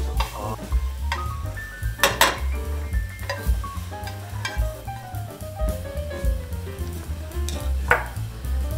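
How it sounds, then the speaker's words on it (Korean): Vegetables for japchae made with kelp noodles are stir-fried in a very hot frying pan, a busy sizzle running under repeated scrapes and clinks of a utensil against the pan, close and continuous without talk. "야채 같은 거는 따로따로 볶는 게 모양이 예쁘게 나옵니다."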